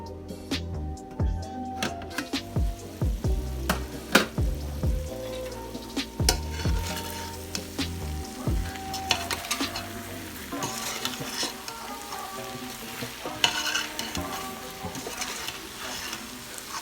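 Mackerel (galunggong) and okra fry in oil in a pan, with steady crackling sizzle, stirring scrapes and occasional clinks of a utensil against the pan throughout.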